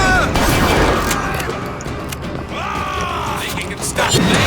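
Rapid gunfire cracks at flying trap-shooting targets in the video game BioShock Infinite, loud bursts and mechanical clicks packed closely together over a busy game soundscape, with a voice talking partway through.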